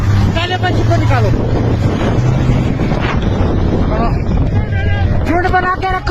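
Strong windstorm at Gulmarg roaring and buffeting the microphone with loud, continuous gusts, while people shout and talk urgently throughout.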